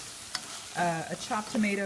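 Rice sautés in a pan with chopped tomato and garlic, giving a soft continuous sizzle. A person talks over it for most of the moment.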